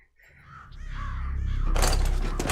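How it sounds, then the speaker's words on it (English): A crow from the video game Metal Gear Solid: The Twin Snakes caws loudly and raggedly, rising out of a low in-game rumble before a burst of harsh noise at the end. "That crow's just instigating the fight."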